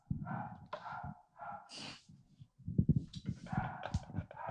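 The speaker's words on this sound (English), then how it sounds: "Dude, dogfight in the hallway." Dogs scuffle in a hallway with snorts, huffs, gasping breaths and short yelps, a busy close tangle of animal noises that rises and falls throughout.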